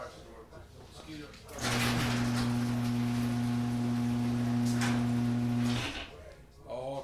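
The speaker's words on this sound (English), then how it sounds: "let me close the garage door" A garage door closing, a loud steady motor hum with a rumbling, rattling slide that runs about four seconds and cuts off, with people talking before and after it.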